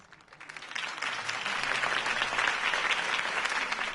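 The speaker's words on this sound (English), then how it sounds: "If only Mr. Wayne, my campaign's largest backer, could have heard that applause" Crowd applause swells after a campaign speech by Harvey Dent in a Batman video game, starting soft and building within a second into sustained, dense clapping that holds loud and steady to the end.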